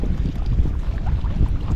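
Wind buffets the microphone while a Daiwa Alphas BF TW 2025 baitcasting reel is cast into a headwind outdoors by the water, a loud low rumbling roar with no distinct cast sound standing out.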